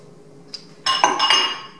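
Eggs being mixed into brownie batter in a bowl, heard as bright clinks and scraping of a utensil against the bowl, loud and close, starting after a brief quiet tap.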